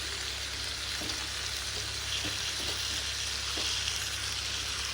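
Meat curry frying in a home kitchen pan, with a steady loud sizzle throughout and a few soft scraping stirs of a spoon, no voices.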